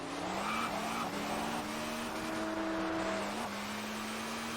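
A tuned Saleen S7 supercar roars steadily in the Test Drive Unlimited racing game, its high engine note climbing and shifting through gears, with faint tire scrub in the background.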